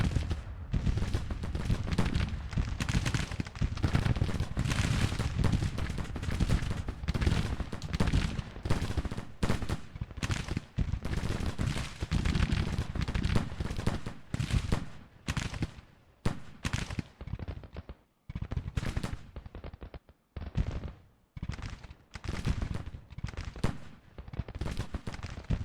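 Massed musket fire from several Civil War brigades in the strategy game Grand Tactician: The Civil War, a dense continuous crackle of overlapping shots that thins into separate volleys and pops, loud and sustained without voices.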